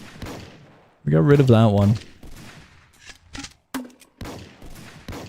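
Gunfire in a Roblox block game, a dense burst of rapid shots about a second long, loud and near, with sparser pops following while a voice talks over it.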